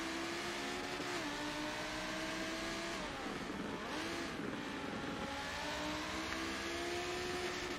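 Lamborghini Gallardo race cars in a racing game at Laguna Seca, engines droning loud and steady with shifting pitch as they rev and ease off, a continuous high whine throughout with no talking.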